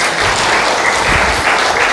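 A congregation at a revival meeting in Gereja Isa Al-Masih church in Semarang cheers and applauds in one dense, continuous roar of clapping and shouts that fills the whole moment.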